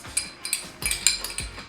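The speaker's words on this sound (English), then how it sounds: "Sorry for the scraping, but y'all know how I feel about getting it all in there." Spatula scraping melted butter out of a bowl into blueberry muffin batter, a series of short clinking scrapes against the bowl, close and moderately loud.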